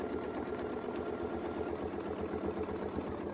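A sewing machine stitching along a Westalee crosshair ruler template, a fast steady mechanical chatter running continuously at close range, with no voices.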